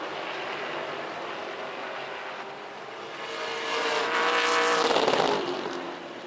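Race cars roar around a track during a weekly race, a dense, steady engine drone that swells louder as the pack draws nearer, then eases slightly.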